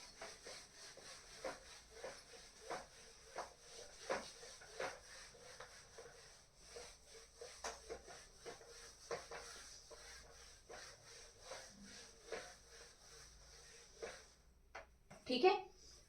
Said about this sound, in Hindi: तो इतना पूरा हम रब कर दे रहे हैं।